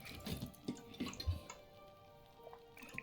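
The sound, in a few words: drink being poured out in video game Book of Hours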